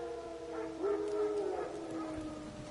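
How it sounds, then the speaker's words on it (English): Wild dogs howl in The Witcher 3 video game: a single drawn-out howl rises mid-clip over a low ambient bed. It sounds moderately distant, with fainter tonal wails around it and no speech. "Wolves? No. Wild dogs. Yes. More dangerous than wolves."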